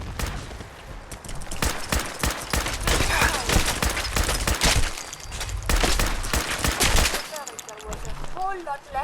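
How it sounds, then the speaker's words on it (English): Rapid bursts of gunfire in Fallout 4 as a player shoots NPCs, with dense, loud volleys and overlapping shots for most of the span that thin out into scattered reports near the end. "I'm just going to shoot them."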